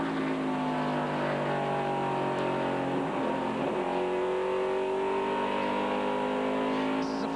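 NASCAR stock cars racing at the 1996 Jiffy Lube 300, including Dick Trickle's Heilig-Meyers Ford, a constant loud roar of engines passing in a dense overlapping drone.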